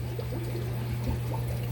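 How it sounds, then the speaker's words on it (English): Water trickles steadily from a suspended filter box down into the bottom of an aquarium sump, a continuous close splashing dribble over a low hum. "the water goes through the cycle of the filters and just drips back down into the bottom of the sump"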